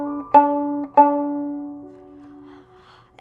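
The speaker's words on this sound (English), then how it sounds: "The D string sounds something like this." Open D string on a violin, sounded alone in a quiet room: a few short bowed strokes, then one long sustained note with a clear, ringing tone.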